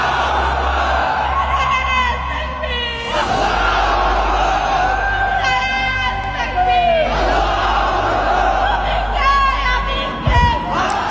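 A large crowd chants the Nara-e-Takbir slogan in loud, rising collective shouts, repeated in waves over a steady low background hum, with the voices close and dominant throughout.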